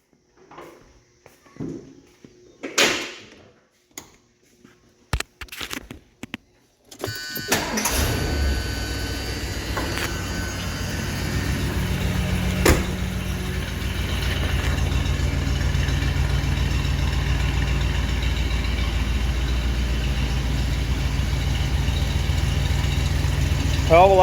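A 1977 Ford Country Squire with a new exhaust cranks and fires after some scattered clanks and a few spoken words, then settles into a steady, rumbling idle that holds to the end.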